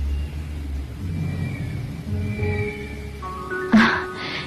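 A car engine idling and rumbling low and steady, moderately close, with a sharper burst of noise near the end.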